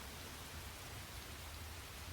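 Steady rain in the video game The Hundred Line: Last Defense Academy, a soft even hiss of falling drops with a low rumble underneath, faint and unbroken.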